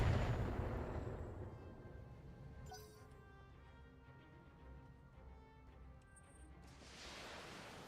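Long-range missiles fire in the BattleTech video game, opening with a heavy boom, then a rumbling tail and a faint later burst, moderately quiet.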